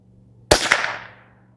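A single sharp crack from a Winchester 121Y rifle, loud and close, with a short echoing tail fading over about a second and no voices around it.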